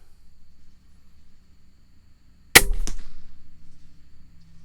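A Killer Instinct Lethal 405 crossbow fitted with a CVLIFE JackalHowl 1.5-5x32 scope fires a single sharp, loud shot with a quick second snap, following near silence.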